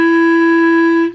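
A clarinet sustains a single steady F sharp, fingered with the first finger and no thumb, for about a second, clear and close before it cuts off.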